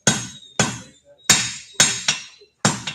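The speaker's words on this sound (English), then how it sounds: "I'm using the edge of the hammer face as kind of a fuller to more rapidly draw out the material." A blacksmith's hammer strikes hot metal on an anvil, the edge of the hammer face drawing out the stock, giving about six sharp ringing blows at an uneven pace, close and loud, each one decaying quickly.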